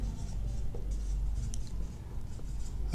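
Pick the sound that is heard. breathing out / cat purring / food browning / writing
writing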